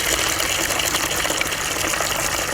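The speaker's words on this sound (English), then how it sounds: "open the gate valve and drain out the trap into a bucket" Water drains from a gold sluice trap through an opened gate valve into a bucket, heard as a loud, steady, close gush and splash that continues without a break, with no talking.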